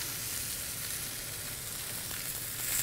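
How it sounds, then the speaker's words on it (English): A standing rib roast of beef browns in a pan over high heat, giving a continuous, dense, hissing sizzle that stays fairly loud and even throughout, with no talk. "I'm going to brown it in the pan first"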